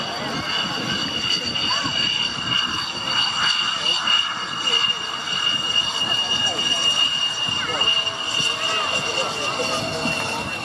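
A display aircraft called Gizmo taxis past the crowd at the Biggin Hill air show, its engine giving a steady loud drone with whining tones, while a commentator talks over the public address.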